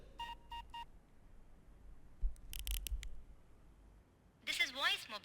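A phone keypad sounds three short tones in quick succession as a voicemail code is entered. A clatter and a bleep follow, then a recorded voice speaks.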